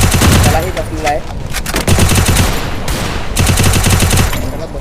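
Dense automatic gunfire in a shooting video game, sustained rapid bursts loud and close throughout, with short gaps between volleys and a voice talking underneath.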